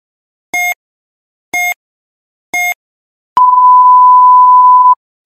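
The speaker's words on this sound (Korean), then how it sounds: "경보음이 울렸습니다" Intensive care patient monitor alarm: three short evenly spaced electronic beeps, then one long sustained tone lasting over a second, loud and clear with silence around them.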